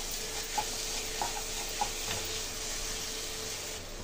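A spoon stirs dry fruits through carrot halwa in a pan, with soft scraping and a faint sizzle under a steady hiss, plus a few light ticks of the spoon against the pan.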